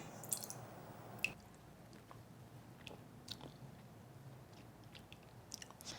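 Someone tastes homemade anchovy and kelp stock, with soft close-up mouth sounds of sipping and chewing, a few small clicks and smacks over quiet room noise.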